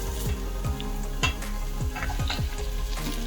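Lamb meat sizzles and fries in a pot with garlic and ginger paste, with steady crackling under repeated scraping stirs of a utensil against the pot.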